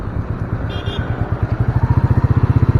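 A Royal Enfield single-cylinder motorcycle engine pulling away in fourth gear, loud and close, its deep thumping beat growing steadily stronger and more regular as it gains speed.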